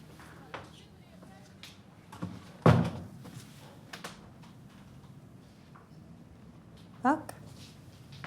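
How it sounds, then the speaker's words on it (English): A door is shut with a solid thud in a quiet room, followed a few seconds later by a second sharper knock or latch click, with faint ambient noise between. "Vera, shut the door."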